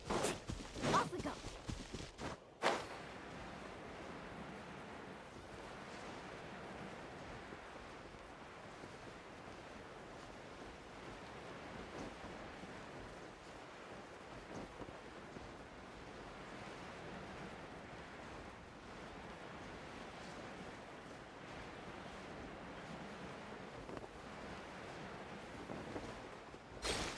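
Steady ocean surf washes and rushes the whole time as a character surfs in Genshin Impact. A few louder bursts come at the start, then a constant broadband roar of waves.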